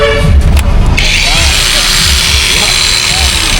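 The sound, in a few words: cordless power drill running at 9,000 RPM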